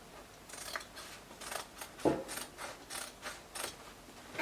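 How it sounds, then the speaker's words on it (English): Scissors snip through fabric to cut out a dress's back neckline, a steady run of about eight crisp close cuts with a louder chop near the middle, no voices. "I will go ahead and cut it out."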